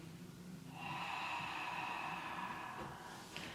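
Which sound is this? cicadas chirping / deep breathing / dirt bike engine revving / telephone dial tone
deep breathing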